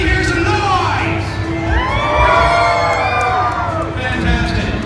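Crowd at a tattoo convention in Baltimore cheering, whooping and shouting loudly and continuously throughout, a dense roar of many voices with individual yells rising above it.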